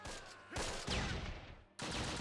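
Gunfire in the Close Combat wartime strategy game, a few sharp bursts and rattling shots at moderate distance, separated by short gaps and followed by a renewed loud burst.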